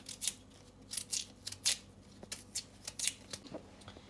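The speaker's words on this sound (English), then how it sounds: "I'm gonna cut them back and remove that little hard" A knife cuts through peeled cassava to take out the hard core, making a series of sharp, close, crisp slicing crunches in an uneven rhythm with short pauses between them.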